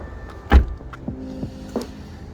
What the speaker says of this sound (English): You can open it with the kick plate, or just by wiping your foot underneath the bumper like I just did